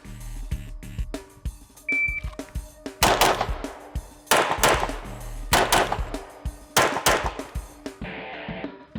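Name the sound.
pistol shots fired in competition shooting drill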